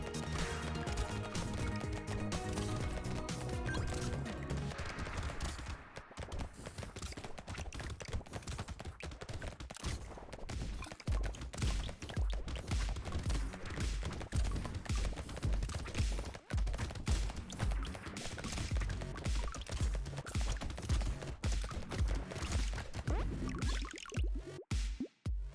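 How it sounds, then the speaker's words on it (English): A submachine gun fires in a Bloons video game, rapid dense bursts of thudding shots rattling nonstop for the whole stretch, loud and continuous with no talk over it. "Love the noise in the submachine gun. Thud thud."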